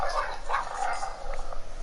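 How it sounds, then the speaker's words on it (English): A dog barks a few times in quick succession at a moderate distance, the yaps rising over steady background noise in a room where someone plays Minecraft. "Why is there a dog barking?"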